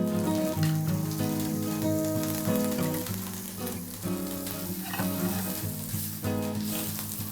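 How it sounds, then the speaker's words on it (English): Hare loin fillets brown in a pan of hot rapeseed oil and butter on the hob, giving a steady, close sizzle that runs throughout under prominent background music. "brown those fillets on the hob"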